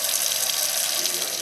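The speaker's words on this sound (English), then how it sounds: "yellow, foul-smelling water coming out of their taps" Water running steadily from a household tap, a continuous bright rushing stream heard close and alone for the whole moment.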